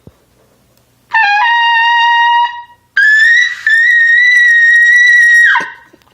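A trumpet played with a lot more air blown through it gives two loud, sustained, bright notes, the second held longer and slightly bending before it fades, with no other sound around them.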